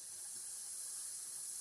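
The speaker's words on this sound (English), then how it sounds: "Wait till steam releases." Steam escaping steadily from a lidded cooking pot over a high flame while ghee rice cooks, a constant soft hiss lasting the whole moment, faint and even, with no voices.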